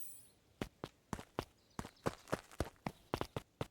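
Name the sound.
group of footsteps approaching in video game Beacon Pines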